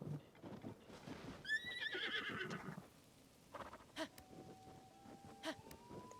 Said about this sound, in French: Il est beau, ce cheval, quand même.